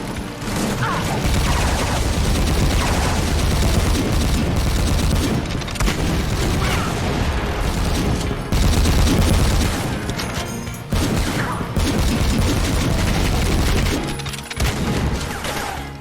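Dense, continuous gunfire and explosions from the retro 1990s-style shooter Supplice, running on GZDoom: rapid bursts, booms and crashes pile up loudly with almost no breaks, and a brief dip near the end.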